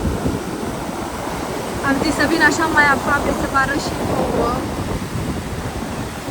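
Sea waves washing onto a beach give a steady broadband roar with gentle swells, while someone speaks over it and a dog is nearby.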